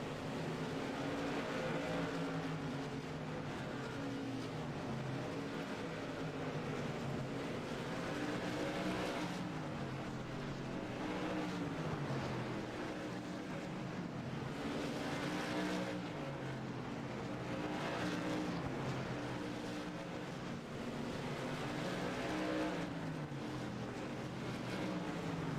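SK Modified race cars at Lanier Speedway roar steadily through turns three and four, a continuous loud engine drone that rises and falls in pitch as cars pass in a pack.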